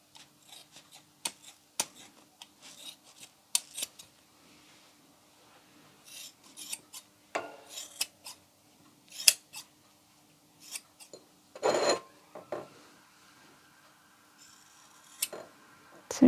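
Scissors snip mattress foam into small cubes for a rustic fall craft, a series of sharp, close, irregular cuts separated by quiet pauses, with occasional rubbing and rustling of the foam.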